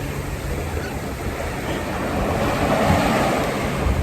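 Ocean waves surging against coastal rocks, a continuous broadband wash of surf swelling louder toward the end, with wind buffeting the microphone.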